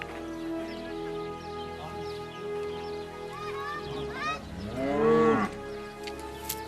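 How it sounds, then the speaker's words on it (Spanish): Cows in the countryside near Ávila low in drawn-out moos, one rising call swelling loudly near the end over a steady outdoor background. "Algunas vacas muestran una gran curiosidad por nuestras cámaras."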